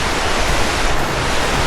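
A river flows with a steady, loud broadband rush of water and no breaks or voices.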